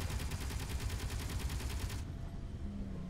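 A small-grid fighter in the space game Space Engineers fires rapid automatic gunfire as a fast, even rattle for about two seconds. It stops abruptly and a quieter background hum remains.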